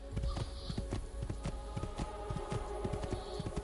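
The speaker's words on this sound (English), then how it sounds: "we have a horse this time" Horse hooves clip-clop at a steady walking pace in Assassin's Creed 2, the rhythmic thuds close and continuous over a busy ambient game background.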